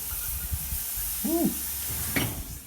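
Steady steam hiss and sizzle while breakfast cooks, with sausage patties going on bagels, a continuous wash of noise with a short vocal exclamation partway through and a brief sharper burst near the end.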